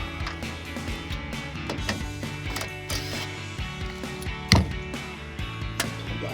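Ratcheting wrench work removing the small tail light bolts on a 2019-2024 RAM 1500 pickup, close clicking and metallic clunks in irregular bursts with one louder knock partway through.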